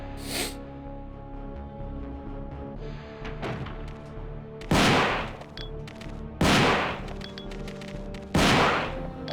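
Resident Evil 2 gunfire: several loud, sharp shotgun-like blasts at roughly two-second intervals, with quieter game sounds and clicks between them.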